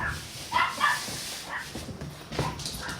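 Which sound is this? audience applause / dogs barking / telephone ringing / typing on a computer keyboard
dogs barking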